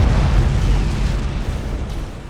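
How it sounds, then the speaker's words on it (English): Thunderhawk bombardment explosions in the space strategy game Battlefleet Gothic: Armada 2 boom out in a loud, deep, rumbling barrage that rolls on continuously and slowly fades. "Initiate Thunderhawk bombardment"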